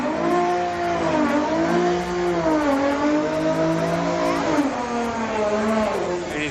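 A Mini Cooper car drives at a Friday night street car meet, its engine note rising and falling steadily as it revs and accelerates, fairly close and prominent throughout.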